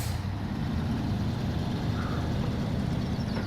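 A truck engine idles steadily in the SnowRunner game on hard mode, a constant low rumble that stays loud and even throughout with no other sounds over it.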